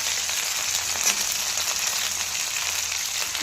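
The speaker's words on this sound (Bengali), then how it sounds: "ফার্স্টে আমি ব্রোকলিটা দিয়ে দেবো, এটা একটু ভাজতে টাইম লাগে" Broccoli frying in a pan, a steady, close hiss of sizzling oil that holds evenly without any break.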